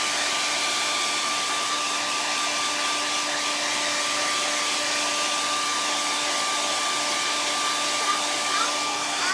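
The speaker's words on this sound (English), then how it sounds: "Yes, I will blow dry that as I blow dry mine" A hair dryer blows steadily on a painted watermelon floral door hanger, a loud, close, continuous whirring hum with no one speaking.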